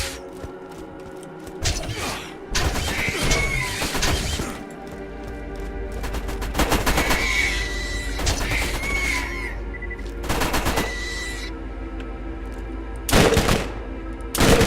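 Automated turrets fire in Borderlands, with bursts of gunfire and booming shots erupting repeatedly in clusters over steady game background sound, with a loud burst near the end.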